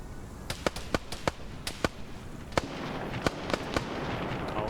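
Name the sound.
gunfire in a video game PvP match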